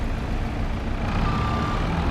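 A truck reversing in Farming Simulator 22: a steady, high reversing beep sounds over the constant low rumble of the idling engine, close and moderately loud.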